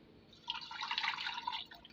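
About half a kilo of water poured into a pressure cooker over minced meat, a brief close splashing trickle that rises and fades within a second or so.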